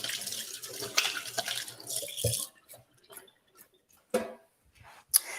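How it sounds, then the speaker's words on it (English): Hands washed under a running kitchen tap, a close splashing stream for about two seconds, then the flow stops and only a few scattered drips and handling clatters follow. "Just wash my hands."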